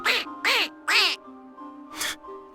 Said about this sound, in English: The duck is quacking.